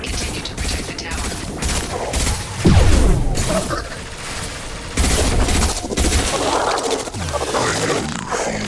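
Gunfire rattles in repeated loud bursts during a Mass Effect 2 battle, mixed with booming impacts and mechanical game effects, with a few short pauses between volleys.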